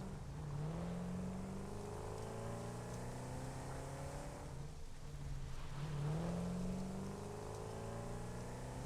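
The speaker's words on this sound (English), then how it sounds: "I am in an all-terrain vehicle." All-terrain vehicle driving in the video game Satisfactory, a steady engine drone that rises and falls in pitch as it revs, continuous and moderately quiet throughout.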